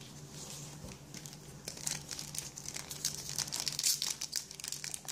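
A Pokémon card booster pack wrapper is crinkled and torn open close by, stubborn plastic foil rustling and crackling in irregular bursts that grow louder toward the end, with no voices.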